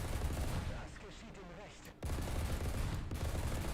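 Tank cannon and gunfire in a combat video game, a dense sustained roar of shots and rumble that briefly drops out and resumes, with faint speech-like sound under the din.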